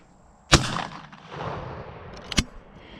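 A shotgun blast at a target rings out sharply near 0.5 s, its report rolling away outdoors, and a second sharp crack lands near 2.4 s, with no talk between.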